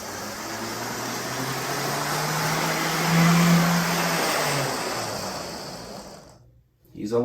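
A loud HO scale model locomotive runs steadily with a whirring, droning motor hum that swells in the middle and then cuts out, close by at a model train show.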